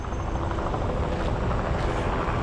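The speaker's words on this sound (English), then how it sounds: "look at that helicopter, that's so cool. Let me wait till it passes because I don't want to talk over it." A helicopter thunders close overhead, its dense, steady rotor and engine roar holding loud and unbroken throughout with no talking.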